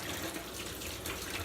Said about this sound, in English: I'm going to have to wash my hands